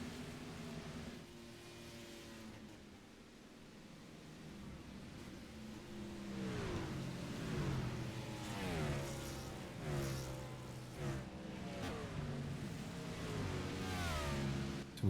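Race truck engines in an iRacing NEP SuperTruck race at Rockingham, several revving and rising in pitch as trucks pass one after another, fairly faint and steady with no talk.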